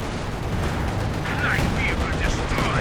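Artillery fire from LEFH howitzers in Company of Heroes 2, rotating and firing during a 3v3 match, heard as a dense rumble of blasts and battle noise with faint sound effects over the top.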